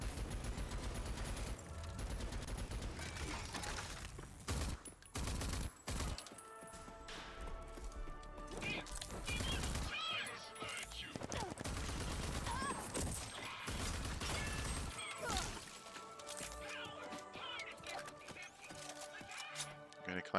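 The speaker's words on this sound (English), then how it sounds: "who's shooting at me?" Gunfire from Rage 2 pounds almost nonstop in loud, dense bursts of rapid shots and impacts, with a few brief pauses and occasional talking under the shooting.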